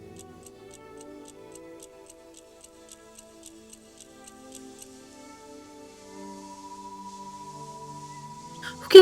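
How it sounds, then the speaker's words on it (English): A clock ticks loudly in a steady, even rhythm, close by and alone in a quiet bedroom, ending with a sudden louder knock. "Ticking's pretty loud."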